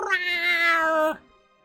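Blanca, a cat in the Choices: Nightbound game, gives one long, loud, drawn-out meow with a rich harmonic tone that cuts off sharply, leaving near silence.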